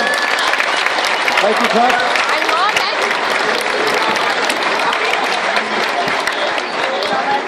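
A crowd claps loudly and continuously at a cup medal ceremony, with dense sustained applause throughout while a voice speaks briefly over it.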